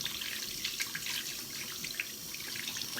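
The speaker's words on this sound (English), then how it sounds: "I'm going to go in and wash my hands and my face because I'm sticky" Tap water runs steadily into a sink as someone washes sticky hands and face, a continuous close splashing hiss with small drips and no talking.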